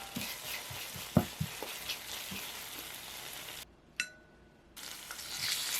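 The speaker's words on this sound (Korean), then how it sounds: "약불에서 타지 않게 섞으면서 볶아줄게요" Chili powder, oyster sauce, vinegar and sugar stir-fry over low heat in a pan, a steady close sizzle broken by light clinks of a utensil, briefly cutting out before resuming.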